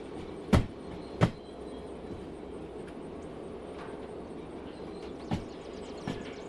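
Steady low rumble of a train rolling along in a railway video game, with a few sharp clunks and bangs standing out against the continuous running noise.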